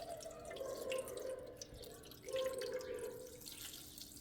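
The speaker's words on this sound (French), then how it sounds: "Donc là, on va mettre 600 g d'eau." Water from a bottle is poured into a Thermomix bowl set on a scale, a quiet gurgling trickle in two pours separated by a brief pause.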